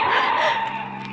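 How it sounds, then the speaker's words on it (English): Car tires skid and squeal loudly as the vehicle twists and swerves, a sustained screech that wavers in pitch over a low engine rumble, a radio-drama sound effect. "The car twisted and swerved."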